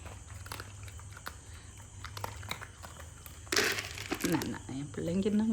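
Dogs eating Pedigree dry dog food off the floor, with quick biting and crunching bursts that grow louder in the second half, while someone talks over them.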